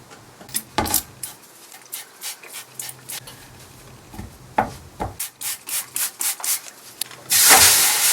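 Daisy the dog scampers about in the background of a workshop during a small wooden desk restoration, with soft padding, panting and brief scuffs mixed among the rhythmic rubbing and rasping of hand-sanding on wood.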